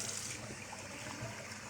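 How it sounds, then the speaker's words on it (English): Water runs steadily from a kitchen tap over rice being swished and rinsed by hand, a continuous close trickle and splash with no voices. "don't just run the water on it. Use your hand, really get in amongst the grains"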